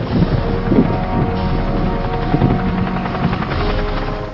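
An aircraft flies over the Zambezi River with a loud, steady, rotor-like engine drone and wind buffeting the microphone throughout, with no voices.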